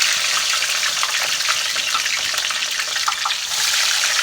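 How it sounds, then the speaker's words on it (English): Frozen seasoned steak fries dropped into hot frying oil, a loud, steady, close sizzle and bubbling hiss that holds throughout, with no talking. "I'm going to go ahead and drop these fries in."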